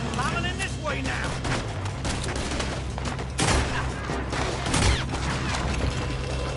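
Continuous heavy gunfire in Red Dead Redemption 2, a dense crackling firefight with louder close shots standing out near three and a half and five seconds, voices mixed into the din throughout.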